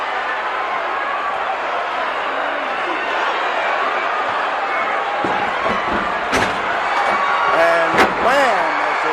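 A wrestler takes another wrestler over and knocks him down onto the mat in a 1984 bout, a couple of sharp thuds rising over a steady arena crowd roar while a commentator talks throughout.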